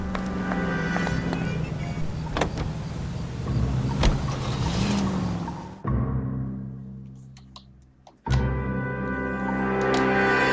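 A car driven in L.A. Noire, a steady engine hum that rises and falls as it drives, cutting out briefly before resuming, with voices talking over it.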